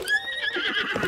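A horse in The Legend of Zelda: Breath of the Wild gives a single short, fairly loud whinny that rises and wavers for about a second, heard alone with no talking over it.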